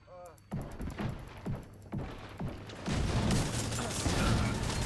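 Single video game gunshots crack out one by one at an even pace, about six sharp reports, before a heavier, continuous burst of fire and crashing noise takes over.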